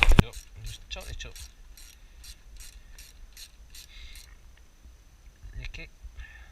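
A hand ratchet clicks in a fast, even series while tightening a race can exhaust onto a Suzuki Bandit 650 motorcycle, crisp and close, pausing, then a few more clicks near the end amid faint handling noise.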